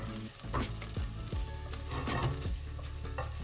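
Onions frying in a pan for Japanese curry, cooked down to a deep color, give a steady close sizzle with occasional scraping stirs, with no voices over it.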